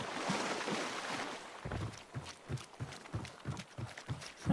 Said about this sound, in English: my footsteps are a little like squelchy. Ugh. My boots are wet.